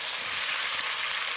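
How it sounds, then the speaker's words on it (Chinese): Kimchi, pork belly and scallion pieces are stir-fried in a hot pan, giving a dense, continuous close-up sizzle with no pauses and no voices. "翻炒均匀"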